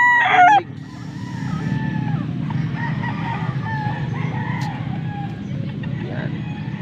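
Green-legged roosters, about three years old, in a farm yard in Angeles: one crows sharply at the start, then scattered clucks and calls carry over a low, steady rumble, with people talking.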